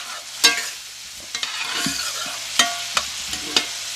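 Onions, celery and bell peppers, the Louisiana holy trinity, sizzle in a pan for crawfish bread, a steady frying hiss broken by sharp stirring scrapes and clacks of a spoon.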